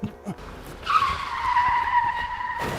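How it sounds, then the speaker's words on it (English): Car tires skid with a long, loud squeal that begins abruptly after a brief faint sound and holds for nearly two seconds before cutting off. "I think I heard a car."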